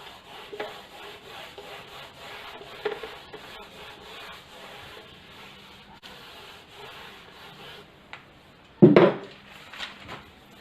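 A board is erased during a physics lesson on dimensional analysis: steady, repeated rubbing strokes run for several seconds, then end in a louder brief knock and scrape near the close, with no talking.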